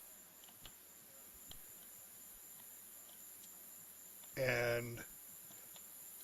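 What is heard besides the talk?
crickets chirping at night, from Tabletop Simulator game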